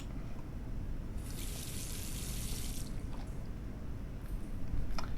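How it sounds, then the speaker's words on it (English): Water from a tap rinses a photographic plate in The Last Door, a short splashing rush over a low background hum, followed by a couple of faint drips and splashes. "All that remains is to rinse the plate."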